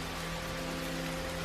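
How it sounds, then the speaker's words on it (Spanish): Torrential rain pours down in a dense, unbroken hiss that stays loud and even throughout, with a faint low hum beneath and no voices. "el cielo dejó caer una lluvia torrencial, que no cesaba"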